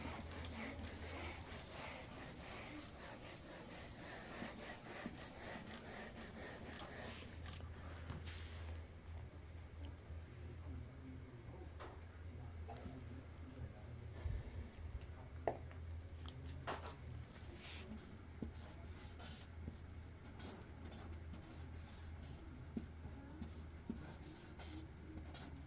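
Soft scratching and rubbing of a board being erased and written on in a classroom, a steady faint scraping with occasional taps continuing for a long stretch.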